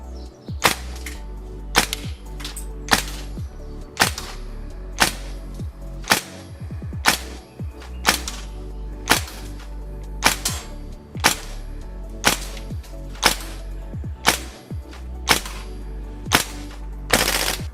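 A GHK Steyr AUG A2 gas blowback airsoft rifle fires sharp, loud single shots at a steady pace, each a crisp crack with a short mechanical clack, plus one quick burst of rapid shots partway through.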